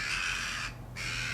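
Crows cawing near a shooting hide during corvid control for a gamekeeper, loud harsh calls that break off briefly and then resume, with no talk.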